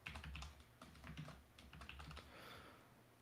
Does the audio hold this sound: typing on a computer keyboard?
yes